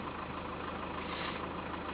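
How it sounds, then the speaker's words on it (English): A vehicle engine idles steadily during diagnostic work on its fuel flow for cylinder number 3, a constant low rumble with a muffled, even texture and no start-up burst. "Right, start the engine"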